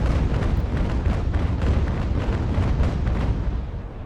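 Ship cannons fire in a naval battle in the game Ultimate General: American Revolution, a dense, rolling barrage of booming shots layered over one another, loud and continuous, with no voices.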